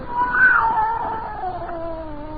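A single cat, scrawny and agitated, lets out a loud drawn-out yowl that rises and then slowly falls, close and alone with no talk over it.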